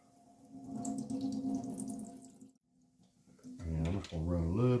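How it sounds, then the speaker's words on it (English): Liquid from canned pinto beans runs out into a kitchen sink as a steady splashing trickle with a faint hum, then a person starts talking partway through. "And then the pinto beans. Just going to drain them out."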